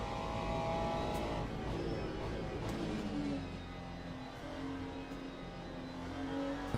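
A Porsche GT3 race car roars in a racing game, its engine a steady loud drone with slowly shifting pitch as it closes in, with no talk over it.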